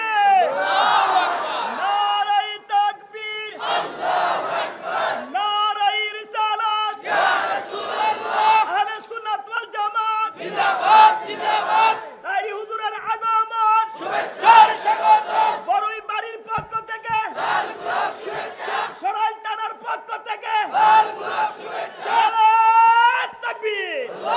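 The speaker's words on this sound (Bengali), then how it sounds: "একটা স্লোগান দেন।" A rally crowd chants a slogan in loud, rhythmic call-and-response bursts, with a lead voice and massed voices alternating in repeated short phrases for the whole stretch.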